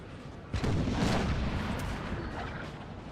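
Artillery fire on a Napoleon Total War battlefield: a deep cannon boom erupts and rumbles out over a second or so, followed by fainter distant reports and a continuous battle din.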